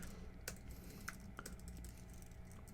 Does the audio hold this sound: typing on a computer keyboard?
yes